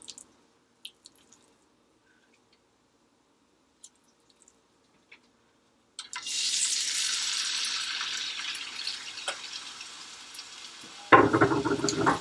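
A pork chop sizzles in a stovetop pan with about a tablespoon of olive oil, a sudden loud hiss bursting in after near silence and holding steady, with a lower crackling surge near the end.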